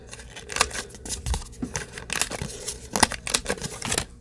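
A corner rounder punch rounds the corners of paper cards with a half-inch die. It gives repeated sharp clicks and crisp snips along with paper rustling and handling, close and steady and with no voices.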